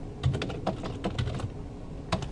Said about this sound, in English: I just hit down on my arrow keys and then hit enter.